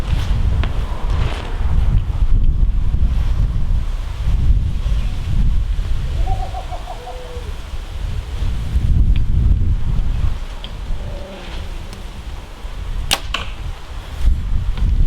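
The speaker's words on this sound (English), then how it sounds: "There is a bit of wind" Wind gusts outdoors at an archery range, a steady low rumble buffeting the microphone that swells and eases throughout, with a sharp brief snap near the end.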